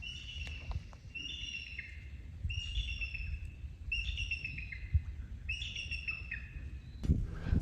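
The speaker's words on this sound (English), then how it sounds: "Eagle just flew up over there. It's over there in a tree, making all kinds of noise." An eagle calls from a tree beside a winter fishing bank, giving a repeated series of bright, descending chirping phrases at a moderate distance over steady outdoor background noise.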